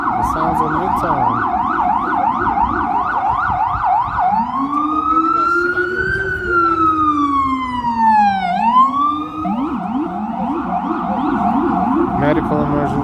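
An emergency vehicle siren in Midtown Manhattan blares loud and close, cycling through fast yelping wails, then a long rising and falling wail, then back to quick yelps, over a low rumble of traffic.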